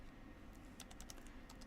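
Someone types on a computer keyboard to fill in login details for a student registration form, producing a quiet run of light key clicks in short bursts over a faint steady background hum.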